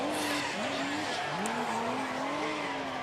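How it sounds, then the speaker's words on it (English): Formula Drift Japan car at Ebisu baking its tires during a qualifying run: a loud, continuous tire squeal that wavers in pitch over a steady engine roar, close and unbroken throughout. "Here we go, baking the tires, smoke pouring out of the holes on the fenders."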